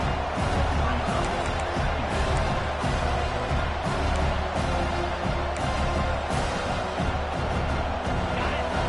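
Steady roar of a college football stadium crowd at a Notre Dame game, dense and continuous throughout with a commentator speaking over it.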